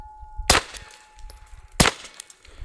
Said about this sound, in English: Now this is way softer shooting,